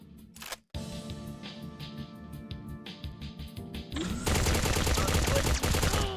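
Enemy gunfire in the video game Agent 64, a dense run of rapid shots that builds to a loud, sustained burst of automatic fire near the end.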